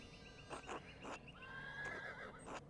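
A horse in the video game Pentiment, set at a medieval abbey, gives a clear, close whinny with a long wavering neigh in the middle. Soft snorts and thumps come before and after it over a quiet background.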